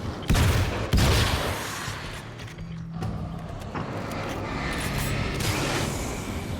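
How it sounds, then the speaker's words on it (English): A fully automatic shotgun fires in the video game Alan Wake's American Nightmare, two loud blasts at the start followed by a dense, noisy rattle of mechanical clatter and rumbling gunfire. "It's a fully automatic shotgun."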